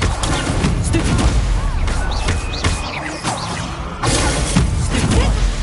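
Loud, dense spell-combat effects from Hogwarts Legacy on PS5, with repeated blasts, whooshes and impacts of the Stupefy spell crashing over one another in a busy battle.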